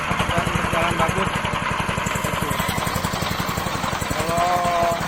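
A pellet machine runs steadily with a loud, even mechanical drone and rapid rhythmic pulsing, close by and continuous throughout, with a faint whine near the end.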